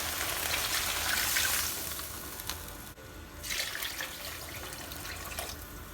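Water pouring steadily into a cooking pot for Thai tom yum vegetable soup, a soft continuous splashing rush that pauses briefly midway and then resumes, quiet and close, with no talking.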